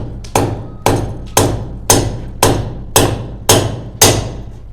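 A hammer strikes while a toilet tank is fixed in place, eight heavy evenly spaced blows, loud and close, each a sharp thud with a brief ringing decay, with no talking.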